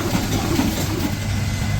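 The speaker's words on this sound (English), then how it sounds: "the one running the big belt for the woodworking equipment on the other side on their line shaft here is this Ruston, which is an English engine" A Ruston English stationary engine drives a line shaft belt for woodworking equipment, with a steady, continuous low running rumble that stays close and even throughout.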